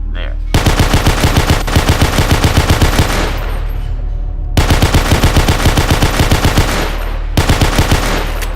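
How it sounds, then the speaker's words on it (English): Automatic gunfire from a DP-28 machine gun in Garry's Mod shooting party hats, loud rapid bursts of closely spaced shots in three long volleys separated by brief pauses. "But I can shoot up all those party hats, of course."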